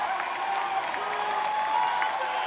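A large crowd at a Democratic U.S. Senate campaign event cheering and applauding as candidate Abdul El-Sayed takes the stage, a dense continuous roar of clapping and voices.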